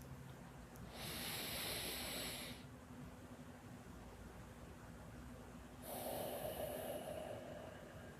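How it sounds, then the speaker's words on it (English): Slow, deliberate box breathing is heard up close: a soft, airy inhale, a quiet held pause, then a long, breathy exhale, each phase lasting a couple of seconds, with no talking. "So you'll inhale to a count of 4, hold the breath in for 4, exhale to the count of 4."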